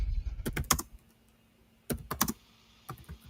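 Computer keyboard keys clack in three quick bursts of typing, close and fairly soft, separated by brief quiet gaps with a faint steady hum underneath.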